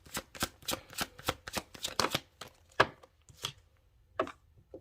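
Tarot cards are shuffled by hand in a rapid series of crisp riffling bursts, close and fairly quiet, with uneven pauses between handfuls and no talking.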